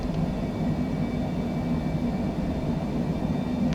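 A Cessna Citation C700 business jet on its takeoff run in Microsoft Flight Simulator: a steady, loud engine roar and rumble with a faint high whine on top, constant for several seconds, no voices.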